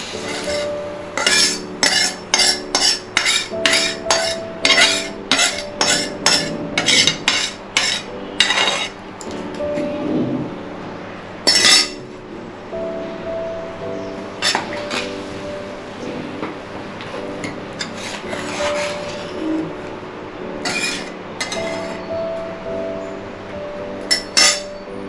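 Steel utensils clink and scrape against a pot as cooked lilva beans go into Gujarati kadhi, a quick run of sharp clinks at the start followed by scattered taps and stirring knocks, close by with no talking.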